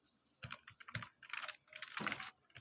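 Bursts of computer keyboard typing during coding work on a React and Redux e-commerce project, close and crisp, irregular clusters of keystrokes with short pauses; no voices.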